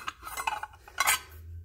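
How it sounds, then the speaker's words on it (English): Antique copper measuring spoons clink and rattle together as they are handled up close, a few light metallic taps and jingles, then quiet. "These are copper measuring spoons."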